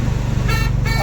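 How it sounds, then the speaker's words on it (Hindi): A car driven by a learner on a highway gives off a steady, loud engine and road drone with a brief horn toot partway through, under light background chatter. "ये देखिए मेरा चेला गाड़ी चला रहा है"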